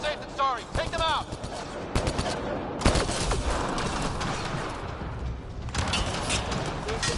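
Rapid automatic gunfire and booming shots during combat in Mass Effect Andromeda, loud and persistent with several heavy bursts, with voices calling out over the shooting.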